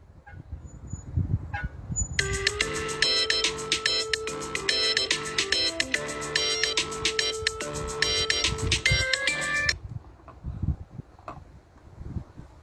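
A phone rings with an incoming call from her father, a repeating electronic ringtone pattern lasting about seven seconds over faint background noise, then stopping.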